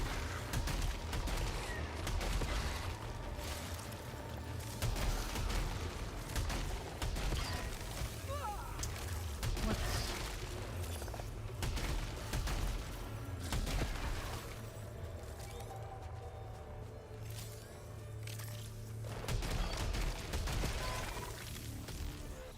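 Shotgun fire in Returnal, repeated sharp blasts and bursts scattered through a busy game soundscape with a low rumble beneath, loud and close, with a voice talking at times.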